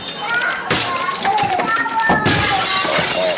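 Plates smash apart with a sharp shattering crash near the start, followed by further breaking clatter, while children's voices and play noise carry on loudly throughout.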